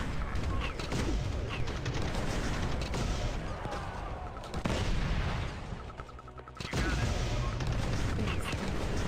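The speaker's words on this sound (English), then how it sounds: "No, they're still exploding. Rapidly and violently." Rapid, violent explosions and gunfire-like bursts in the Command & Conquer strategy game keep up a loud, dense, continuous barrage, with a brief dip before it resumes at full strength, and voices talk over it.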